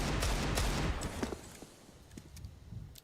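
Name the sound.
wallbang gunshots in video game Counter-Strike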